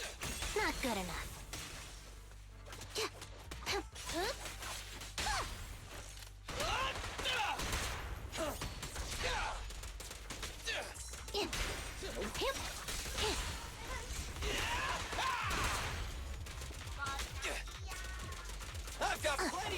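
Rapid bursts of video game gunfire crackle and smash across a busy action scene, repeated volleys with whooshes and impacts layered under frequent character voices.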